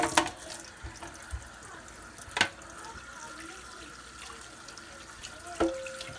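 Hot water running and splashing while flushing out a freshly cleaned engine cylinder before a top-end install, a steady faucet-like wash with a few sharp clinks, fairly quiet with no talking.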